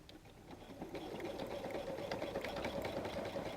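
A sewing machine stitches a messenger bag with a steady, fast, whirring chatter of the needle, low and fairly quiet, running continuously without a break.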